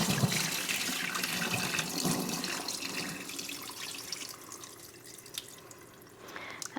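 Starchy water is poured out of a bowl into a kitchen sink, a continuous splashing gush close by that tapers off into lighter trickles and drips, with no talking.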